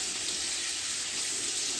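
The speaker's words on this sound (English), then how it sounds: "we're just gonna go ahead and rinse the yam out" A block of frozen yam rinsed under a running kitchen tap, a steady hissing stream of water pouring without a break, moderately loud and close, no voices.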